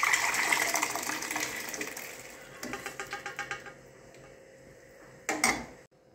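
Steamed usal, a sprouted legume curry, is tipped into spiced misal gravy in a pan, a close wet pouring gush followed by a run of quick clinking scrapes and a final brief splash before quiet.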